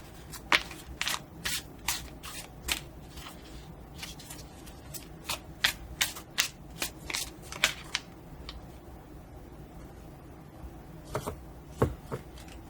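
Tarot cards shuffled by hand in a quiet setting, a close series of crisp riffling snaps and flicks in irregular bursts with short pauses between.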